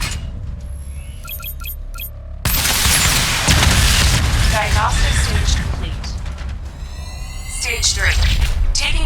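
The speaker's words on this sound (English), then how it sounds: "Missile barrage level 2 ready." Missile barrage explosions in Batman: Arkham Knight, a sudden heavy boom followed by continuous rumbling blasts and crackling impacts, loud and dense, with electronic game tones and a voice speaking over them.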